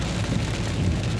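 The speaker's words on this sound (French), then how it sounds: "quand ça pleut comme ça" Heavy rain pours down in a dense, steady hiss of drops on surfaces, loud and continuous with no gaps, on a roadside where traffic usually drives at 70.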